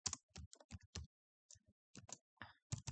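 A computer keyboard is typed on in short bursts of clicking keystrokes with brief pauses between, close and fairly quiet, while a short line of C code is entered in a text editor. No one speaks.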